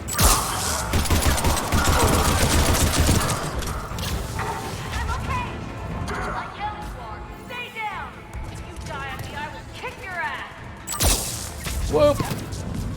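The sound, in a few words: gunfire from the video game Mass Effect 3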